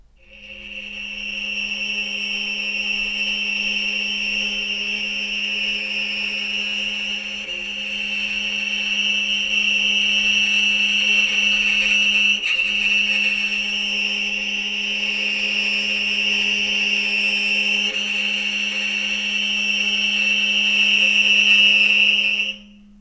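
A single sustained violin note bowed on the D string holds steady for about twenty seconds, bright and close with a strong harmonic overtone, with a faint break midway and a slight swell before it stops abruptly.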